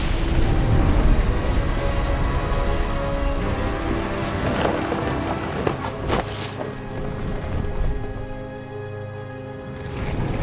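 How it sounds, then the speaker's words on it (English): A dense thunderstorm from the game What Remains of Edith Finch: steady heavy rain hisses throughout while deep rolling thunder rumbles close by, with a few sharper cracks, and no voices. "The thunder sounded much too close and full of angry power."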